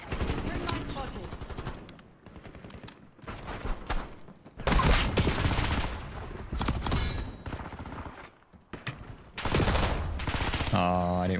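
Rapid bursts of video-game gunfire crackle across an online team shooter match as a teammate gets shot, loud, dense volleys interspersed with short pauses and a brief electronic tone near the end.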